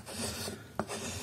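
Massdrop Peretua knife carving wood in a few short, close rasping scrapes with one sharper cut near the end, fairly quiet and with no talk.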